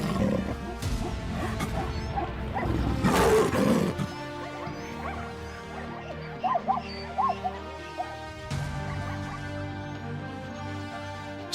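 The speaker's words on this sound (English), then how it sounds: "A lion's roar, deep, resonant, and unmistakable, can travel up to 8 kilometers through the night air" A lion in the African wild gives deep, resonant roars and grunts. Several loud bursts rise and fall over background ambience, with one especially forceful surge partway through and quieter rumbling calls afterward.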